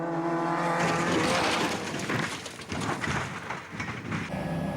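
A Falcon Nissan race car at full racing speed, a loud, sustained engine roar with squealing tyres, heard up close and continuous, while its suspension fails and it strikes a trackside barrier.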